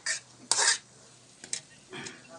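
Pansit chami noodles stirred in a pan as they finish cooking, several short scraping strokes of a utensil against metal, separated by quiet gaps with a faint sizzle underneath.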